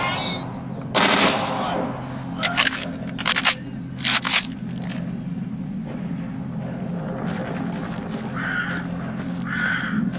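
Bursts of automatic gunfire crackle in the STALKER mod Anomaly, a few loud rapid volleys clustered early on, then quieter intermittent shots and scrapes over a steady ambient game rumble, with no talking.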